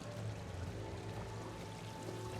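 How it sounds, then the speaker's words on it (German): Steady rushing water from a waterfall on the Citadel in the video game Mass Effect 3, a continuous, even wash of sound at moderate level with no talk over it. "Bitte den Wasserfall nicht berühren."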